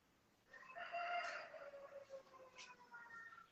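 Chicken crowing and clucking outside a backyard poultry house, a nearby drawn-out call with softer clucks and bird sounds trailing after it over steady outdoor background noise.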